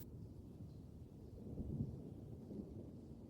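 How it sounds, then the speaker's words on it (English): Low, distant thunder rolls and rumbles faintly through a stormy night, a soft continuous grumble that swells briefly in the middle without any sharp crack. "lightning cast its anti-shadow into the room, followed by bone-rumbling thunder"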